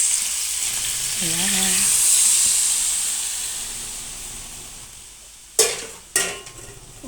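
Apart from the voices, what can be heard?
frying marinated meat for adobo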